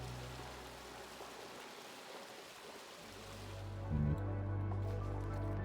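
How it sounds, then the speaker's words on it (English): Water flowing through pipes in the game Oxygen Not Included, a continuous hissing rush with a low gurgling layer that swells louder partway through, heard alone. "The noise of water."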